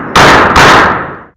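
A single gunshot fired at a target during recoil practice, a loud sharp crack with a second blast close behind, the report ringing out and decaying over about a second.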